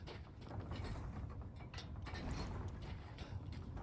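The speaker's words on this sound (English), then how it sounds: "Go ahead and unlock the door." A door-unlocking mechanism in the video game Resident Evil Village, a quiet, continuous grinding of gears and ratcheting clicks with low rumble underneath, without any talk.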